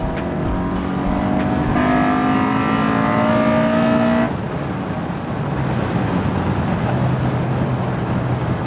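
A Honda K24Z3 VTEC four-cylinder with an A2 head swap, fitted in a Mazda Miata, revs hard. Its loud, close rasp climbs in pitch, holds briefly, then drops back to a rougher, lower drone.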